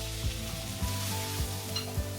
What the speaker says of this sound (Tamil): ஜீரகம் பொரிஞ்சதும் அதில் நம்ம இன்னொரு வெங்காயத்தை பொடிசாக நறுக்கி நம்ம இதோட சேர்த்து